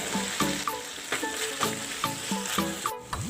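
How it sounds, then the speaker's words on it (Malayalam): Egg 65 balls being stirred through sauce in a hot pan on a stove, a steady sizzle of frying with repeated scraping strokes of a spoon against the pan, close and alone. "ഇനി നന്നായിട്ടൊന്ന് ഇളക്കി കൊടുക്കാം."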